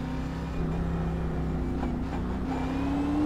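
A race car at Stafford pulling away in first gear for qualifying: a steady droning engine with a rising pitch near the end, loud and close, heard from inside the car, with no talk.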